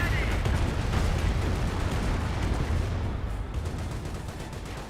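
Rocket barrage explosions rumble continuously in a Company of Heroes battle, dense booming and crackling at steady loudness, fading slightly toward the end, with a voice talking over the din.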